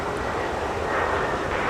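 A Delta Airbus A220-300 airliner at Minneapolis–St. Paul airport in a snowstorm, heard as a steady loud broadband engine roar that swells slightly, with no voices over it.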